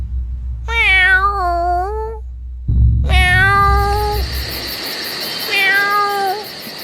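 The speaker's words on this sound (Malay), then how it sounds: "Kucing mengiau." A black cat meows loudly and close by at a house doorway, giving two long wavering cries and a shorter third, with a low rumble between the first two.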